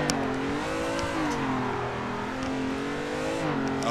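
A car drifting through a corner in the racing simulator Assetto Corsa, engine held at high revs with a wavering, sustained drone that dips and climbs with throttle, close and continuous with no talking.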